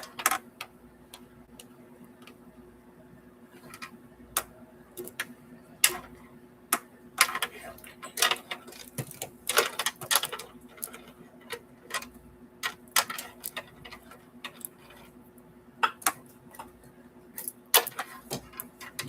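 A sewing machine stitches a quilt in irregular bursts of sharp ticking and clattering over a steady mechanical hum, pausing and restarting close by.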